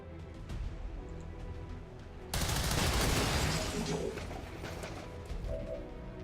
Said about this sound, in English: So let's fire the weapon.